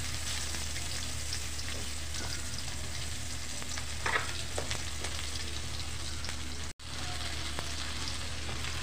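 Chopped onion fries in a pan for a bottle gourd curry, a steady, close sizzle with occasional stirring scrapes and one brief dropout.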